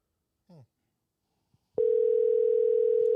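A steady, loud telephone dial tone begins partway through and holds unbroken to the end, after a short spoken word and a brief click in otherwise near silence.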